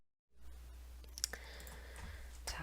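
Mouse clicks while grouping a data column in Power BI: a couple of faint, sharp clicks over low steady hum, alone with no talk.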